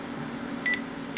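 Telephone keypad tones as a number is dialled, two short clean beeps about half a second apart over steady low room hum, quiet and close.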